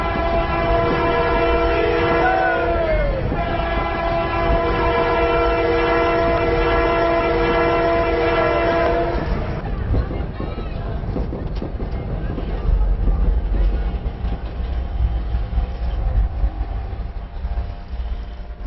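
A train runs along the line between stations near Haridwar, a steady rumble of wheels and carriage noise with a sustained horn-like harmonic tone through the first half, then rougher rolling clatter continuing loudly to the end.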